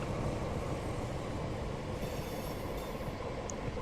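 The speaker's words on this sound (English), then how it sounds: "We're just pulling into the station, and we'll drop off these passengers" A passenger train in Train Simulator 2017 on the South Wales Coastal Route pulls into a station with a steady rolling rumble and rail noise, faint high squeals and clicks from the wheels, and no voices.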